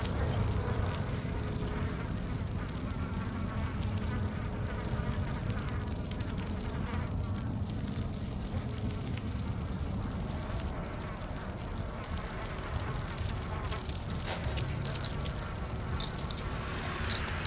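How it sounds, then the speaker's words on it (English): Bugs buzzing in the Silent Hill 2 Remake video game, a dense, continuous insect drone that stays loud and steady throughout, close and unbroken. "These bugs."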